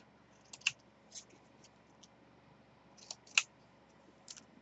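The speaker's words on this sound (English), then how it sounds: "I'm going to go ahead and cut the corners off." Scissors snipping the corners off a sheet of patterned paper for a Crealies Halloween album: a few sparse, crisp clicks, near and quiet, with faint background hiss between cuts.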